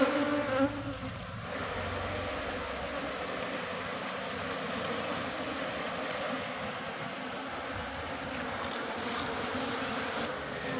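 Steady dense buzzing of a honey bee colony being moved into a trap box, a continuous close hum of many insects with no talk.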